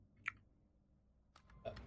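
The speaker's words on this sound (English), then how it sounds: "That was me chewing on a mint humbug that I had in my mouth." A mint humbug is chewed in the mouth, giving a few faint, close, crunchy clicks and squishes spread over about two seconds in a quiet room.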